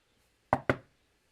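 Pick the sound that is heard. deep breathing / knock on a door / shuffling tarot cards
knock on a door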